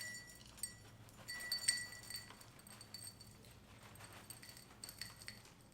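Faint, scattered clinks and taps of ice against a cocktail glass, soft and close, with small irregular bursts over a low background hush.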